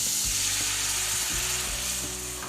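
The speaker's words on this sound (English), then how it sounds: "it is time to add our little slurry to this pan" A cheese slurry for cacio e pepe hits a hot pan, giving a steady loud sizzle and frying hiss that runs throughout with slight stirring scrapes.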